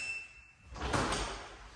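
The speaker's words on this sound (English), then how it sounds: "instantly unlocks the door" A fingerprint smart door lock unlocking, a faint high electronic tone followed by a short mechanical whir and clack of the bolt retracting, heard close and alone.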